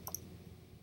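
A computer mouse gives two quick, sharp clicks close together right at the start, faint and crisp, followed by quiet room hum.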